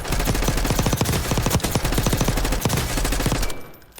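Rapid automatic gunfire from a loadout rifle fitted with a buffer weighted stock in Warzone BO6, loud close bursts of fast shots with a short break, ending in a quick fade, no voices.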